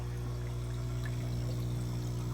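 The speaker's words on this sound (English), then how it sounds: "So the water drains down through the walls and into this top 2-inch PVC pipe" Water drains through a 2-inch PVC pipe into an aquarium sump on a cichlid tank, a continuous close trickle and gurgle over a steady low pump hum.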